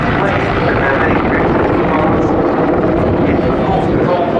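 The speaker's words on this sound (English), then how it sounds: "It's not just an attack helicopter like the Apache, it also has a certain degree of transport capability" German attack helicopter with some transport capability flying a display at the RIAT 2015 airshow, a loud, steady rotor and turbine roar that fills the whole stretch without letup, with commentary voice faintly mixed in.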